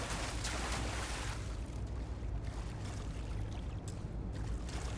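Water in the Starfield video game, a soft, continuous pouring and trickling with a faint splashy wash, steady and low in level throughout.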